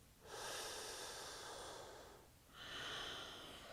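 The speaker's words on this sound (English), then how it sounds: "One more breath here." Two slow, deep breaths are taken through the nose during a yoga stretch, each a long, airy, close-up inhale-exhale with a brief pause between them, quiet and unaccompanied.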